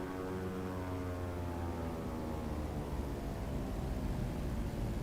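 Cockpit drone of a Britten-Norman Islander's twin propeller engines during a slightly unstable touchdown on a runway by a beach in Microsoft Flight Simulator, a steady loud hum with no voices.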